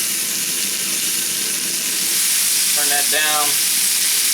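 Pork kebabs sizzle steadily on a hot cast iron griddle, a continuous broadband frying hiss that swells slightly louder partway through, with a brief spoken voice over it near the end.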